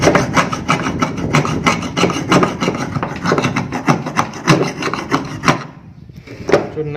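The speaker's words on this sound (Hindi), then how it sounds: "परत है हम इसको रगड़ के साफ कर रहे हैं" Steady, loud, close rasping as an object is rubbed hard to scrape off its outer layer, continuous rough strokes that briefly thin out near the end, with no talk.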